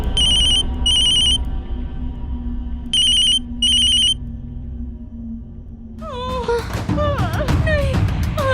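A mobile phone left at home rings alone in four short, clear electronic bursts, paired in two groups, before sweeping, whooshing horror-show music swells in.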